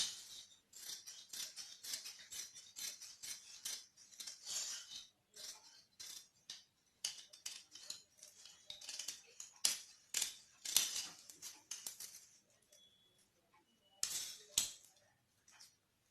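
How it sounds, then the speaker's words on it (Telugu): Scissors snipping through fabric for a child's top, a long run of quick, sharp, closely spaced cuts with short pauses between bursts, close and fairly quiet, with no talking. "టోటల్ తీసుకొని ఇలా టాప్ ని కట్ చేసేసుకుందాం."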